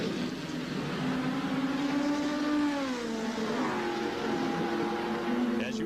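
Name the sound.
Gurney Toyota race car driving around the track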